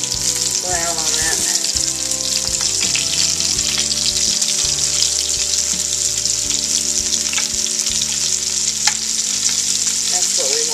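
Beef pieces brown in a hot pan for beef bourguignon, giving a loud, steady, close sizzle with occasional stirring scrapes over faint background music.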